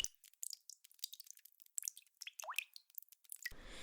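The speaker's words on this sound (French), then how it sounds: "le seul son était le faible écoulement de l'eau" Faint dripping and trickling water in a cold, damp rocky gorge, scattered irregular drips and small plops echoing close by, with no voices.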